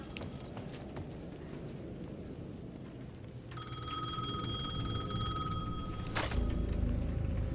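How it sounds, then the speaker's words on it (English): A payphone at the edge of a plaza in the Alan Wake 2 video game rings with a bright metallic bell, starting midway over footsteps and ambient game noise, steady and moderately loud before a sharp click cuts it off. "The payphone at the edge of the plaza was ringing again."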